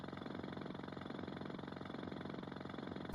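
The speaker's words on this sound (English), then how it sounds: "I could use the drill, and that'll hopefully put us down" A drill bores down into the ground in Worms: The Director's Cut on the Amiga, a steady, loud rattling mechanical drone with a fast pulsing chatter that runs unbroken throughout.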